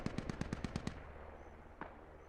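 A rapid burst of about seven automatic rifle shots in the Squad military shooter, fairly distant, followed by quiet and one more lone shot.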